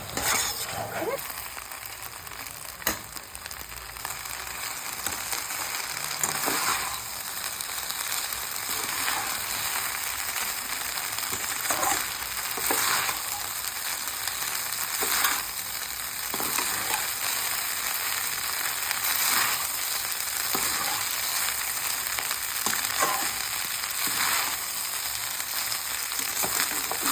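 Rice stir-frying in a pan for fried rice, a continuous sizzle broken by repeated scraping and clinking stirs at irregular intervals, close and moderately loud, with no clear speech.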